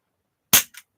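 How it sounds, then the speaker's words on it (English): A CO2 airsoft pistol is dry fired: one sharp, loud crack with a brief hiss of gas, followed by a quieter mechanical click, close up with no talking. "I'm going to dry fire this because I know this has got CO2 in it."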